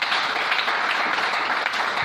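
A church congregation breaks into steady applause in praise of the Lord, a dense continuous wash of clapping heard alone.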